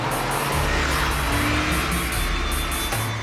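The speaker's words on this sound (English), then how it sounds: "At that speed, these cars are still accelerating" Porsche sports cars accelerating at high speed, a loud, steady engine roar with low rumbling tones and a strong rushing noise, continuous throughout without talking.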